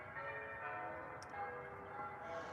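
Church bells ring steadily outdoors on a foggy evening, their overlapping tones sustained and moderately loud throughout.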